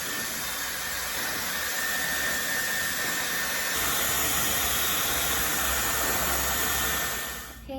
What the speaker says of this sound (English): So I'm just gonna go ahead and I'm gonna blow dry it